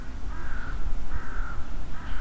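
Crows caw outdoors, three drawn-out harsh calls in steady succession over a rough wind-like rush, loud and fairly near.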